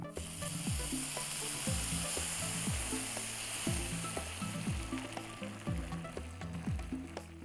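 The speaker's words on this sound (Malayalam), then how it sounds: "ഇച്ചിരി നികത്തി അങ്ങോട്ട് വെള്ളം ഒഴിക്കണം" Rice for tomato rice sizzles loudly in a pan after water is poured over it once the grains are roasted. Repeated scraping strokes of stirring come at a regular pace under a constant hiss.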